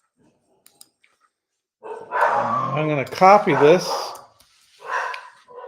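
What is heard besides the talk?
dog barking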